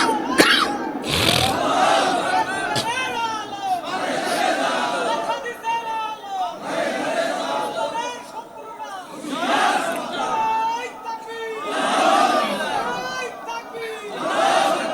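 A large crowd at a religious sermon gathering shouts takbir in repeated loud, unified bursts, each swelling and fading, with voices answering in waves throughout.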